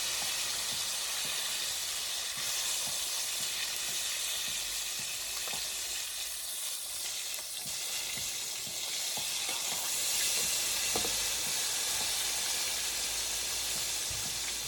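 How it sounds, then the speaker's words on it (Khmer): Fish frying in hot oil until crisp gives a steady, loud sizzle and hiss throughout, with occasional faint crackles and pops and no voices. "ខ្ញុំបំពងរហូតដល់តែត្រីនឹងវាក្រៀមល្អ"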